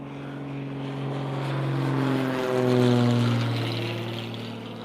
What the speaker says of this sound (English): Lots of planes flying in right now.